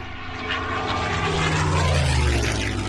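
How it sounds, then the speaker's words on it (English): WWII propeller fighters, P-51 Mustangs against Fw 190s and Me-109s, diving in a dogfight: a loud, continuous droning engine roar that swells and shifts in pitch as the planes swoop, with no voices. "8 planes swoop into a swirling dogfight."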